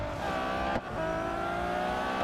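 Race car engine in the Real Racing 3 video game, a slightly slippy car, droning steadily at high revs with a brief dip as it shifts or lifts, loud and continuous with no talk.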